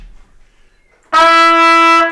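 A trumpet sustains a single F sharp fingered with the second valve, one clear steady note entering after a second of near-silence and holding for about a second before cutting off, loud and close.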